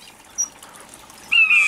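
Waxbills kept in an outdoor aviary give a brief high chirp, then a longer thin, clear call near the end, with faint rustling in between.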